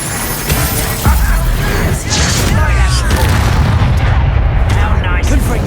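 Bombarda spell explosion in the Hogwarts Legacy video game: a sharp blast around the one-second mark amid busy combat effects, crackling magic and a loud, dense mix, with voices speaking over the action.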